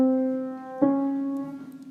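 A held piano note rings and a second note a semitone away is struck partway through, both sustaining cleanly and alone at moderate volume.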